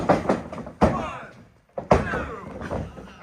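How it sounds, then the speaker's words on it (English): A wrestler is slammed down onto the ring mat at an N.E.W. Worcester Massacre pro wrestling show, giving two heavy thuds that ring out over a commentator talking. "slamming Spade down"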